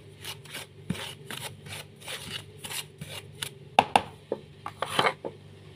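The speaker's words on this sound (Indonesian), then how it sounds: "Sini kita campurkan dengan bumbu seperti ini. Boleh diaduk-aduk seperti ini" Food is stirred and mixed with seasoning in a basin, giving a close series of irregular scraping and rubbing strokes, some sharper knocks among them, with no talking.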